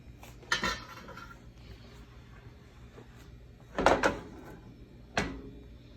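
Clanks and knocks of a pan of corn flour batter going back into a broiler, a few sharp metallic bangs with a rattling cluster in the middle, close but fairly quiet, with no talk.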